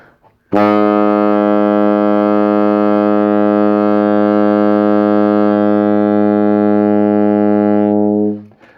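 A low B-flat saxophone note held steady for about eight seconds, full and buzzy with rich overtones, played alone and close.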